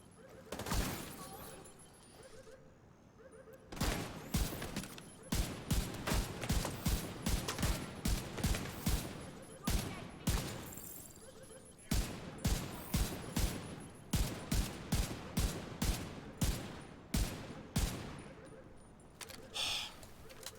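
Rapid gunfire from shooting in The Division 2, with repeated bursts of shots in steady clusters through most of the stretch after a quieter opening, close and loud, with a few faint mechanical clicks and no talking.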